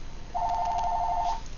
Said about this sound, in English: Our phone rang.